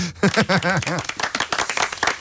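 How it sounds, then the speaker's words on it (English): Clapping and cheering from a crowd, with loud whooping voices at first and then scattered claps continuing. "Give them a round of applause."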